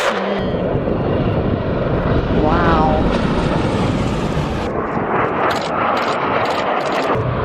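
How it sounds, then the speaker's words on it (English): Aircraft roaring low through the Mach Loop valley in Wales, a loud sustained engine rush that swells and lingers with a brief exclaimed voice over it. "seeing aircraft fly through the Mach Loop"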